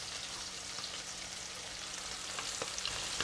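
Prawns deep-fry in oil in a wok, a dense continuous bubbling sizzle heard close up, with small crackles and pops scattered throughout and no voices.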